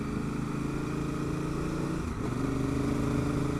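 Honda Africa Twin liter-class adventure motorcycle engine droning steadily while riding on a gravel road, loud and close, with a slight pitch drop at a shift partway through.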